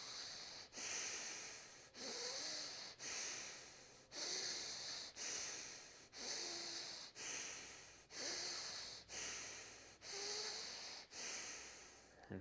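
Repeated breaths during a breathwork session, about ten quick rhythmic cycles of close, loud inhale-exhale with a rushing, hissy quality and short pauses between, no talk.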